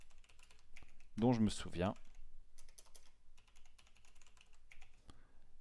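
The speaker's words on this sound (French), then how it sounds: "donc là je tape un mot de passe" Light keystrokes on a computer keyboard as a password is entered during an OPNsense firewall setup, quiet taps scattered around a brief French-spoken phrase.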